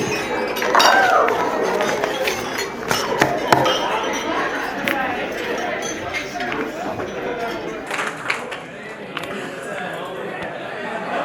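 Glasses clinking at a wedding reception toast, several bright chimes scattered under a guest's nearby speech and crowd chatter.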